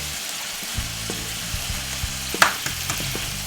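A steak sears in a hot pan, giving a steady spitting fry with a few clicks and one brighter splatter midway, close and even.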